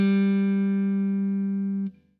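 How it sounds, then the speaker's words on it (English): A single guitar G note on the low E string at the third fret, one sustained, clean tone ringing steadily for nearly two seconds before being cut off, played up close with no voices. "With G major, we could start at the low E string, 3rd fret."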